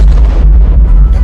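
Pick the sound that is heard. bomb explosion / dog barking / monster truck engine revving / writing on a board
bomb explosion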